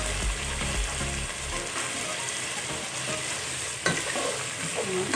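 Goat meat sautés in a pan for afritada, giving a loud, dense, continuous sizzle with stirring noises and a brief clatter partway through. No voices are heard.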